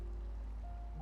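A river flows steadily in a video game, a soft continuous rush of water that holds an even level throughout, with faint tonal hums drifting in above it toward the end.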